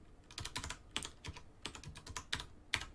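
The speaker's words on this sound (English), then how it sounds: "It's going to ask you for a password, and you can just type in your password." Password being typed on a computer keyboard while connecting to a server, with a quick, uneven run of close, crisp key clicks and a few sharper strikes, no voices.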